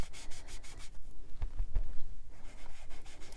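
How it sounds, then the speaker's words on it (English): A sponge dabs and rubs Glacier-colored ink onto cardstock for a handmade card. Close, soft scratchy rubbing strokes repeat steadily with a few duller taps in the middle, and no voices. "I'm just gonna go ahead and dab in that Glacier and then just rub it gently"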